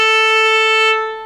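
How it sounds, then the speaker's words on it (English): A single sustained violin note on the A string, played with a slight fake vibrato, bright and steady before fading out at the end. "On A, we use sort of like, we violinists use kind of like fake vibrato"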